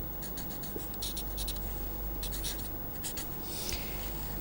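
A pen scratches across paper as a vector is drawn by hand, giving close, quiet bursts of scraping strokes with brief pauses between them over a low steady background hum.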